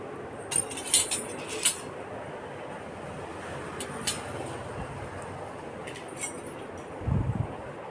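Metal rice and curry spoons and other kitchen utensils clink lightly as they are hung on a scarf, with a few bright taps early on and fainter ones later over a low room hum.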